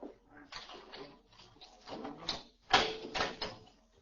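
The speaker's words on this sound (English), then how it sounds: "I'll get the door." A door being opened in an old-time radio crime drama set near prison cell blocks: a series of clunks and rattling latch sounds, with a louder knock-like impact partway through, close and distinct in a quiet room.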